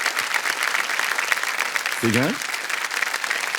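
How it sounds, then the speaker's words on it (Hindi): Studio audience applause on the Kaun Banega Crorepati TV quiz show, a steady dense clapping that runs for the whole stretch while a host talks briefly over it. "ताली बज जाए इनके लिए"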